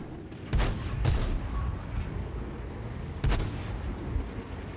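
Artillery fire in the tank game World of Tanks on Mountain Pass map: three heavy booming shots, two close together then one after a pause, with rumbling tails, no voices.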